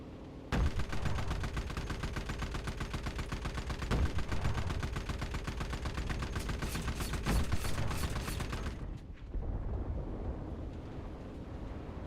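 Loud, continuous gunfire and explosions from a bombing run in the video game Enlisted, with dense sustained shooting and heavy blasts that stop abruptly near the end, leaving a quieter rumble.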